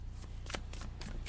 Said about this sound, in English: He's letting me shuffle. He's letting me love the deck.